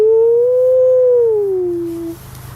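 A human voice imitating a black wolf's howl: a single long, smooth, sustained wooing tone that drifts slightly downward and fades, sung close and loud.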